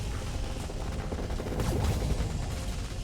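Giga Cannon weapon fire in a space-battle video game, a dense continuous rumble of booming blasts with a swelling impact near the middle, heavy and loud throughout.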